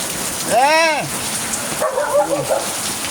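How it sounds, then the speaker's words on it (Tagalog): Heavy storm rain pours in a steady, dense hiss throughout, close and loud, broken by one drawn-out dog yelp and a brief voice. "May bagyo!"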